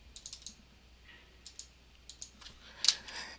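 Typing into an Excel worksheet on a computer keyboard, sparse clusters of crisp, close key clicks with short gaps between them, quiet in between and no talking.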